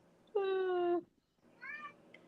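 A pet cat meowing twice, a long drawn-out clear meow followed after a pause by a shorter, softer one, close by with a quiet background.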